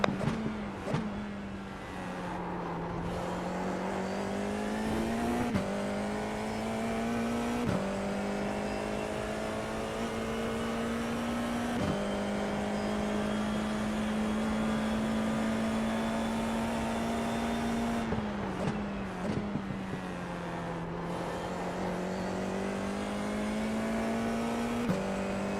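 A Porsche race car engine in the iRacing sim, a steady high whine holding revs with sharp dips at gear shifts and lifts, loud and continuous throughout with no voices.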